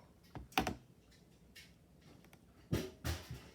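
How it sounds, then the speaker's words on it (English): Fingers pressing keys on a calculator while entering a trigonometry expression: a few soft, close clicks in two small clusters separated by a short pause, with faint taps in between. "I'm going to type that into my calculator exactly like I see it."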